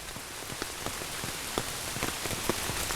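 Steady rain falling on an apple orchard and bee farm, a dense close patter with scattered sharper drops striking nearby surfaces, no voices.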